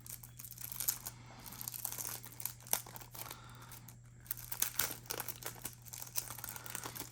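Plastic packaging of a Yu-Gi-Oh starter deck being sliced open and crinkled, with close, irregular crackling and tearing rustles over a low steady hum.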